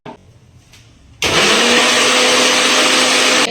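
A mixer grinder whirs loudly as it grinds yogurt chutney ingredients for methi palak bhajia, starting abruptly after a quiet moment and running as a steady, dense motor roar until the end.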